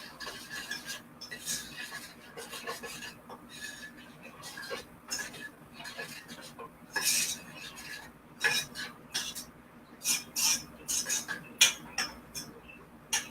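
Coconut flakes are stirred in a pan with a utensil, giving repeated scraping and clinking strokes that grow more frequent and louder toward the end, with faint speech in the background.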